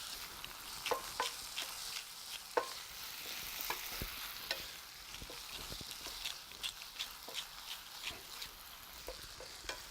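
Homemade tomato sauce is stirred in a pan, with a spoon scraping and clicking in an irregular rhythm over a soft, steady sizzle, close and fairly quiet, with no talking.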